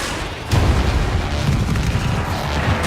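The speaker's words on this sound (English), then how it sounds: "Missile away!" Missile launch and blast in Battlefield 4 naval combat: a heavy low boom hits about half a second in, then a sustained rumbling roar continues loud and dense to the end.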